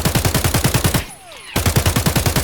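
Rapid automatic gunfire from a rifle in Escape from Tarkov, fired at a range in loud, evenly spaced bursts, broken by a short pause before the fast rhythm resumes.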